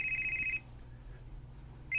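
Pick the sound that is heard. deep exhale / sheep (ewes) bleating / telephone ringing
telephone ringing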